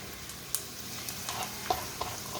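Pork sizzles in a pan with garlic, a soft steady frying hiss broken by a few light clicks from stirring, with no voices.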